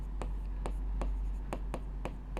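Chalk or marker writing on a board during a Class 10 maths lesson, a series of about seven sharp, evenly spaced strokes tapping and scraping over a steady low hum, with no talking.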